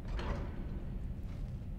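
Game door opening in modded Skyrim, a faint low rumbling slide with mechanical grinding that lasts a couple of seconds.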